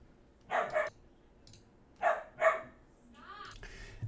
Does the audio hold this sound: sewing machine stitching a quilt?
no